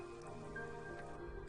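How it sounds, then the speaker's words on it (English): Rain pours in the video game Blue Reflection, a soft, steady wash of drips and patter under a low background music bed, continuous and moderately quiet. "It just started pouring."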